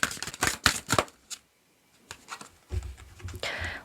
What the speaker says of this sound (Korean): 마지막으로 2번 님들을 위한 좋은 카드 뽑아보도록 할게요.